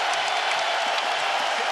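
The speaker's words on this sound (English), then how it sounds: "Wow, this crowd is crazy." An arena crowd roaring at a UFC 231 fight, a dense, loud and sustained wash of cheering and applause that fills the whole moment without letting up.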